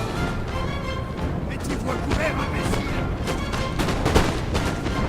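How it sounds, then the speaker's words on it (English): Massed musket volleys from line infantry in Napoleon: Total War, dense crackling shots and dull booms rolling across a battlefield, with someone talking steadily over the firing. "So we get a nice volley to the Swiss foot. Nice couple of shots coming in."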